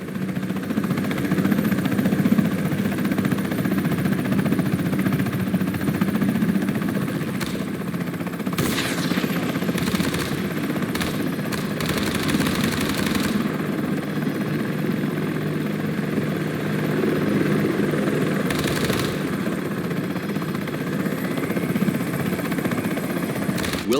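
A Comanche helicopter flies in the Comanche video game. Its rotor and engine drone steadily and loudly throughout, broken by several short, sharp bursts that sound like gunfire.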